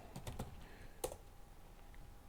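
A handful of quiet, close keystrokes on a computer keyboard, a quick cluster and then one sharper tap, faint and without talking.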